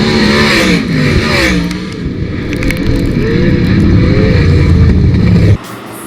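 Sprint cars at Attica Raceway Park roar past in a loud, continuous racing engine wail, rising and falling as they slide through the turn, then cutting off sharply near the end.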